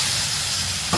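Cheeseburger sliders sizzle loudly on a Blackstone griddle, a dense constant hiss of frying meat with a small thump near the end as they are flipped.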